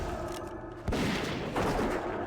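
A dwarf hunter's gunfire in World of Warcraft Classic: a few sharp, loud shots with booming impacts, close up over a busy game background.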